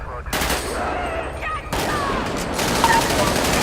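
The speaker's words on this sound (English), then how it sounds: "Shots fired, shots fired." Rapid gunfire rings out in close bursts, a sharp volley that breaks off and then resumes as sustained shooting, with voices shouting over it.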